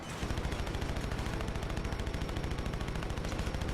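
Rapid, continuous automatic gunfire from a mounted gun in The Saboteur, a WWII-era action game, hammers away loud and close in an unbroken stream with no talking.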